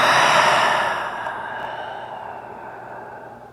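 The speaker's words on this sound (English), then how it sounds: "Big breath in. Out of the mouth." A big breath exhaled out of the mouth during a yoga session, a long breathy sigh that starts strong and gradually fades over a few seconds, close and alone.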